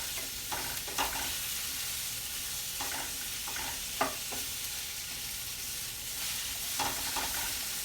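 Pork chops fry in a pan with a continuous bright sizzle, punctuated by a few brief clatters and scrapes of stirring or turning, all close and fairly loud with no voices.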